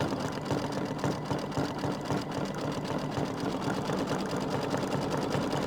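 Embroidery machine sewing dense satin stitches on a quilt block, a steady fast rhythmic chatter of the needle running without a break and with no talk.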